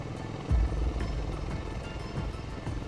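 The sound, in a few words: Marine Corps V-22 Osprey tilt-rotor aircraft flying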